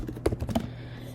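A computer keyboard being typed on in a quick burst of several close, crisp key clicks that fade into quiet room tone, with no talking.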